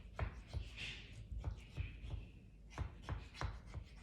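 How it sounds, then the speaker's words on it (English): A knife scrapes and taps around the bottom and edges of a flan pan holding caramel flan, giving a series of soft, irregular scraping strokes close by. "You're just gonna wanna make sure that your knife hits the bottom of the pan."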